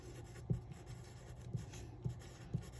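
A pen writes on a paper worksheet, giving a soft continuous scratching with a few sharper taps as strokes start, close and quiet.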